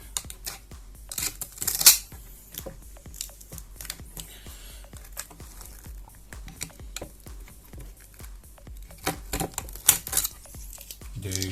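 Longboard grip tape is cut and trimmed by hand, giving repeated close rasping snips and scrapes in an irregular rhythm with occasional louder crackling tears, no talking.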